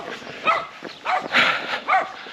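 A dog barks several times in a short, irregular series outdoors during a scrub run, the barks fairly close and moderately loud over background noise.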